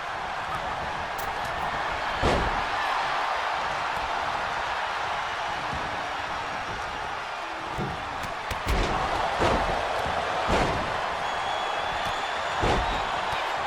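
Hard slam impacts in a WWE 2K23 women's Royal Rumble match, a wrestler's head driven down, several sharp thuds at intervals over a steady roaring arena crowd.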